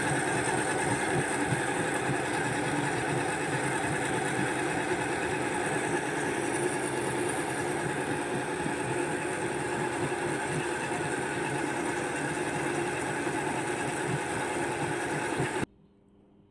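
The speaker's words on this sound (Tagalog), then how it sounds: "Kaya, eto guys, i-blend ko siya." An electric blender whirs steadily as it purées pandan leaves for juice, one loud, continuous motor drone that runs unbroken for about fifteen seconds before cutting off abruptly.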